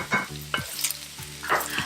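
Stir-frying in a hot wok after ground cumin goes in, sizzling under a few distinct spatula scrapes and clanks in an uneven rhythm, close and clear with no voices.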